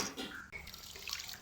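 Urad dal, chana dal and fenugreek seeds are swished and rinsed in water for dosa batter, giving a brief, close wet sloshing and splashing.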